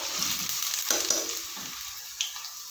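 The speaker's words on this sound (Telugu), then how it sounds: "దీంట్లో ఉల్లిగడ్డలు వేస్తున్నా." Sliced onions dropped into hot oil in a home kitchen, frying for a capsicum tomato curry: a steady, close hiss and crackle with a few louder pops and spatters.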